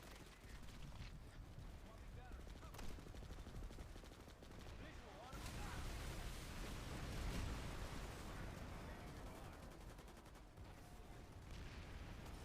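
Heavy continuous gunfire in a large battle in the online shooter Planetside 2, dense overlapping bursts and rattling shots with occasional louder blasts, sustained throughout at a steady, busy level.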